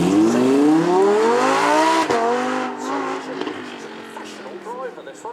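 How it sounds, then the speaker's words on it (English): A 640-horsepower supercar engine revs hard as it accelerates, its tone climbing steeply and then fading away as the car pulls off, with an announcer talking over it. "you can hear every single one of those cylinders. 640 horsepower in this."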